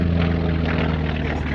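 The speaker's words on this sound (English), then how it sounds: "And here comes the Catalina into a very nice landing." A Catalina flying boat drones steadily through a landing, its propeller engines giving a loud, continuous low roar with no pauses.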